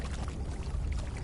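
An indoor waterfall in the Conan Exiles game splashes and pours in a steady watery rush, low and fairly soft, heard alone.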